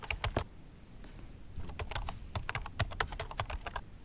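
Rapid keystrokes on a computer keyboard, an irregular run of sharp clicks and taps from close by with brief pauses, no talking.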